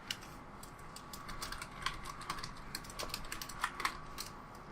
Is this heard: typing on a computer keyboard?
yes